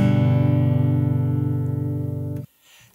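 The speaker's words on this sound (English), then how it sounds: "you're going to play your lowest 3 strings on the guitar together while holding them down on those frets" A low guitar chord played on the lowest three strings rings out sustained for over two seconds, then is abruptly muted, leaving near silence.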